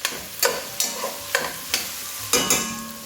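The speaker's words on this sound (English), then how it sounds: "we'll continue to cook the sausage until it browns" Sausage browns in a soup pot for a broccoli rabe and bean soup, sizzling steadily while a spoon scrapes and stirs it in regular strokes, about eight close, rhythmic scrapes over the frying hiss.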